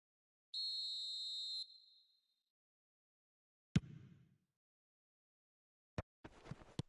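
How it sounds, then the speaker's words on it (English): A referee's whistle in a football video game, one sharp shrill blast lasting about a second, clear and close, followed later by thuds and brief crowd noise. "And the whistle's gone, presumably for offside."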